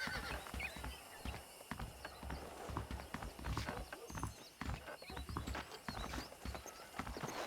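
Steady clip-clop of horse hooves in the video game Red Dead Redemption, a continuous trotting rhythm at moderate distance with a faint whinny, over low game ambience.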